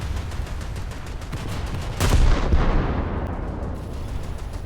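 Rapid gunfire from the secondary battery of the French light cruiser Duguay-Trouin in a naval video game, a dense crackle of repeated shots peaking in a louder burst midway and then trailing off, with no talking.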